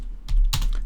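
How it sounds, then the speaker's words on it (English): Brief bursts of typing on a computer keyboard, two clustered clicks of keys close by, alone with no talk. "that's what I'm telling you I'm typing"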